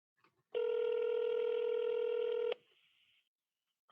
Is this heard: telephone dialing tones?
yes